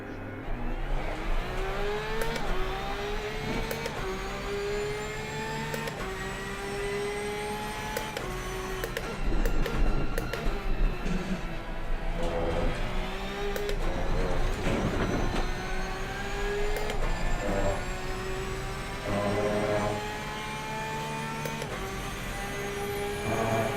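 A Porsche race car engine in Assetto Corsa Competizione drones steadily and loudly throughout, its pitch rising and falling through gear changes, with no talking.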